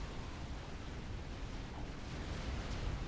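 Artillery explosions from the strategy game Forged Alliance Forever rumble as a dense, continuous low roar of blasts, steady and fairly faint throughout.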